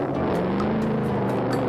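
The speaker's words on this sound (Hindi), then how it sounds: "बाइक यूं जाकर एक बंजर भूमि के पास रुकी।" A motorbike carrying two riders engine-humming at close range as it rolls along past farm fields and comes to a stop beside barren land, with a steady drone throughout.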